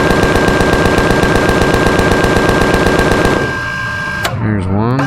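Rapid, loud automatic gunfire in a video game, a dense continuous stream of shots lasting several seconds before cutting off into a quieter tail with a short mechanical sweep.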